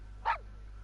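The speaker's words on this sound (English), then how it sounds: "Woof woof. A guard poodle." A single short bark from a guard poodle in Genshin Impact pops out clearly over a low steady game background hum.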